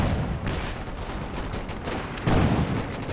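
Sustained battlefield gunfire from the real-time strategy game Company of Heroes 2, with dense overlapping machine gun bursts and explosions forming a continuous loud rumble, swelling briefly toward the end, with no talk.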